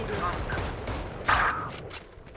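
Gunfire rattles in a Valorant match between PRX and G2, a brief burst of shots heard through a watch-party stream, mixed under excited voices talking.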